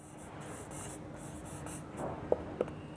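Handwriting an answer with a pen on paper, soft continuous scratching strokes under faint room noise, ending in two sharp taps.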